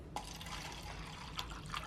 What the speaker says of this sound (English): I go a little slower and I pour it into the cup first